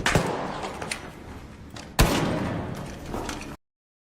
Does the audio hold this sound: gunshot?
yes